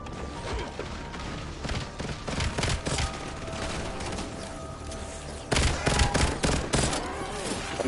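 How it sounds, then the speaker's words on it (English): Rapid automatic gunfire from Call of Duty Black Ops 7 rattles in dense, continuous bursts with booms and mechanical clatter, growing louder and harsher toward the end, with no talking. "I missed all them shots."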